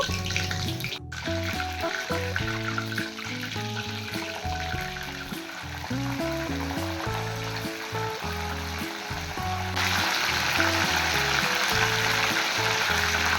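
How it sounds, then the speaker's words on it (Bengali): Bombay duck fish frying in butter over a low gas flame, a dense, steady sizzle and crackle close up, holding loud throughout and brightening slightly near the end, with a rhythmic pattern of lower tones beneath. "লোটে মাছগুলোকে লাল লাল করে ভেজে নেব"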